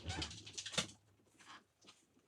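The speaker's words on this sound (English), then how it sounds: "My little doggy wants me to hold her." Small pet dog Chip gives a few soft, high whimpers and whines at close range, short bursts separated by brief pauses, fairly quiet.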